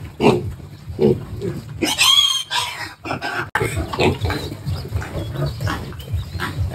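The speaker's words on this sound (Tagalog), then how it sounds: "Ito na guys, ang ating mga inililipat na biik." Piglets being moved on a pig farm squeal and grunt continuously, with loud, overlapping high-pitched squeals bunched in the first half among busy close-range pen noise.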